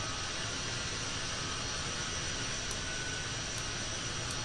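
A jet aircraft engine in Kerbal Space Program roars as a constant, dense broadband drone, steady and loud throughout with no change in pitch or level and no voices.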